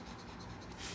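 A pen scribbles a line on an anatomy drawing, a close, steady scratching that lasts about a second.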